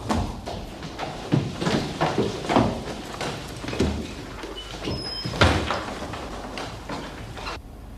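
Locked door being rattled and pushed against, a series of loud irregular knocks and thumps that repeat unevenly for several seconds before fading.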